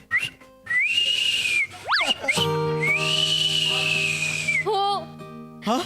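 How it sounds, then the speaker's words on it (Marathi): A person whistles on a comedy stage, with sustained high notes, a quick rising and falling swoop and short warbling phrases. The whistling is clear and close, with quiet pauses between phrases. "तुला ही शिट्टी आठवते."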